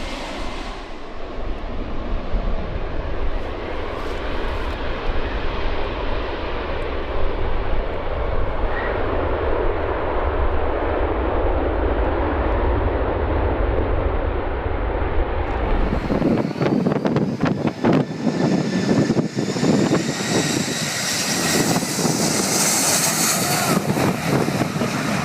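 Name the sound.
Boeing 757 jet airliner making a short field landing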